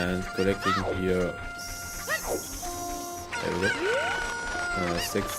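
Chickens and a rooster in the Zelda game's Kokiri village: repeated clucks and squawks with a crow, close and clear, joined by short game effects and a voice talking underneath.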